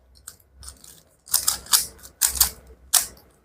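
Plastic clicks and clacks come from a 3x3 Rubik's cube as someone twists it to insert a twisted corner piece, a series of close, sharp ratcheting snaps in uneven bursts.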